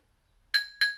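Two bright glass clinks in quick succession during a toast, close and ringing, following a moment of near silence.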